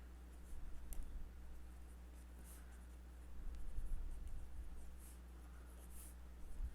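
Pen or marker scratches steadily on a board or paper while a Gaussian surface is drawn in a physics lecture, quiet strokes repeating over a low constant hum with no talking.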